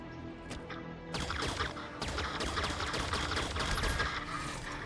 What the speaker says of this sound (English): I'm waiting for the turret fire to stop.